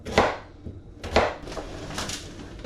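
A knife chops scrubbed, topped and tailed potatoes into bite-sized pieces on a board, three or four sharp close thuds spaced about a second apart.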